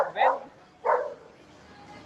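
A dog standing on a vehicle near a cricket ground barks twice, two close, loud yelps separated by a short pause.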